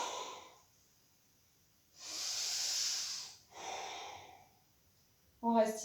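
Ujjayi yoga breathing: two long, steady, breathy hissing exhales close to the microphone, separated by quiet, followed by a brief voiced sound at the end.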